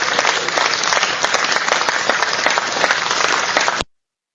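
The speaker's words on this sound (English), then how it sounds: "Let's give the man a round of applause." A round of applause from an online session crowd, with dense steady clapping filling the space at moderate volume before cutting off abruptly.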